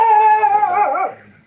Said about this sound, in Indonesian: ini si Edis ngapain gonggong terus sih?